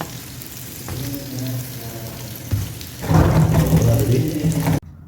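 A stuffed beef chapati fries in oil on a pan. A soft steady sizzle swells into a louder, crackling burst partway through, then stops abruptly.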